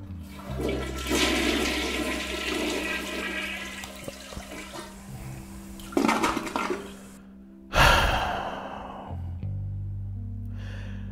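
A toilet flush sound effect plays as a loud, rushing whoosh of water. Shorter splashing bursts and a rumbling gurgle follow near the end.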